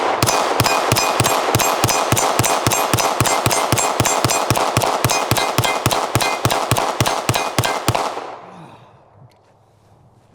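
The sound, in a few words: Glock V pistol firing a full magazine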